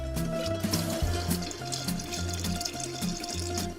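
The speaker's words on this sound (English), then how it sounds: "Some cold water." Cold tap water pours steadily into a drink being mixed, a continuous splashing flow at moderate loudness with no talking.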